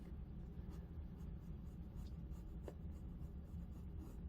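A pen or pencil drawing out a symmetrical tree of life wire-wrap design on paper, soft continuous scratching strokes, close but faint, with no talking.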